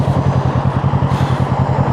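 A big, heavy motorcycle rumbling close by at low speed on a London street while it is eased through a turn, its deep engine pulsing steadily and loudly.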